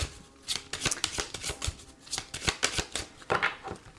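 Lenormand cards shuffled by hand for a nine-card reading, a close, quiet run of quick papery riffles and flicks in an uneven rhythm, with no talk over it.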